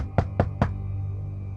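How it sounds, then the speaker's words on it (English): Three sharp, evenly spaced knocks land on a front door in quick succession, close and loud, followed by a quiet low hum with no voices. "I heard someone knocking on my front door."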